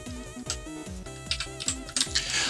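Quick clattering keystrokes on a computer keyboard, a rapid irregular run of close taps over background game music.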